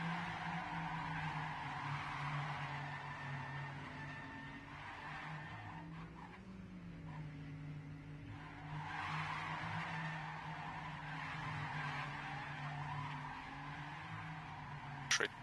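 Cars in a racing video game drift through a corner in an ESL CCC'14 Nordic vs. United Kingdom match, steady engine drone with long tire skids and squeals running throughout, loud and continuous, swelling near the end.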